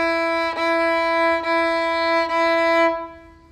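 A bowed orchestral string instrument holds the first-finger note on the D string, sounded as three sustained bow strokes with brief breaks between them and a clear, steady pitch, then fading out.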